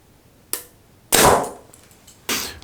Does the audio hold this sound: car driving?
no